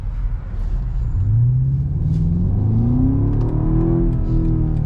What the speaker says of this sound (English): Oh my god, that V8 sounds insane.